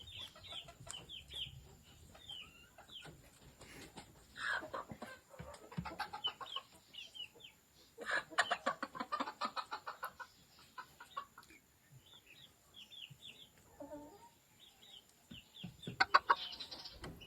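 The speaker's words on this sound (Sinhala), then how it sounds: "බිත්තර දාන සත්තු කිකිලියෝ ඉන්න 20ක් විතර මෙතන" Egg-laying hens, about twenty of them, cluck and chatter on a small farm: irregular bursts of nearby clucking rise and fall over a quiet background, with louder clusters of calls breaking in every few seconds.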